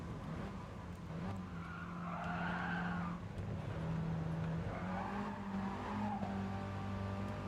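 A race car in a racing game over-rotating under light trail braking, with a steady engine drone and a long tire squeal and skid running under it, all close and continuous, without any speech.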